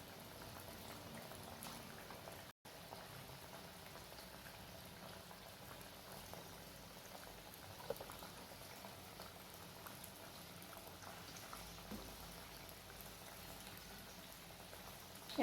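Moth bean fritters (matki vade) frying in hot oil over a low flame, a steady dense sizzle and crackle of bubbling oil that runs unbroken and close, with a brief dropout early on.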